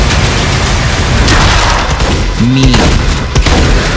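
Heavy weapons from a dark medieval-fantasy shooter roar in a loud, dense, continuous barrage of blasts and booms, with a brief word spoken over the din.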